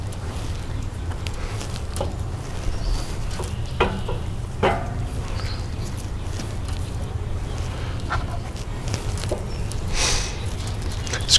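Baby back ribs sizzle on a Weber kettle grill heated with guava wood, a steady fizzing hiss with scattered clacks and scrapes as the meat is laid on the grate, close and moderately loud.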